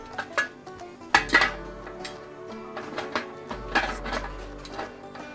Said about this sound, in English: We're just going to put the lid on top.